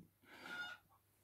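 A chicken lets out a single short, drawn clucking call, faint and somewhat distant, alone in a quiet setting.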